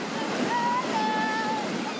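Surf breaking at Plage des Brisants during a bodyboard and surf contest, a continuous close roar of waves with wind buffeting, while a faint tonal hum runs underneath.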